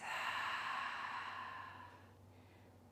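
A slow, deep exhale in a yoga breathing exercise, one long breathy release that starts close and fairly strong and tapers softly to quiet.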